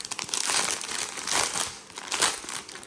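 Packaging crinkles and crackles up close as square diamonds for a Spell Queen kit are unboxed, in loud bursts of rustling over about three seconds with no talking.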